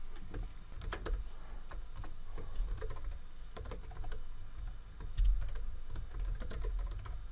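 Rapid, light clicking of a computer keyboard as someone types steadily at a desk, fairly quiet and close, with no talking.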